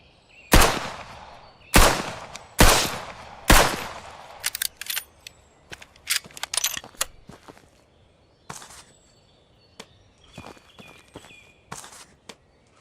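Gunfire in the survival horror game Outbreak Island aimed at alien mutant crabs: four loud, widely spaced shots followed by a scatter of quicker, lighter cracks and impacts, close and without talk.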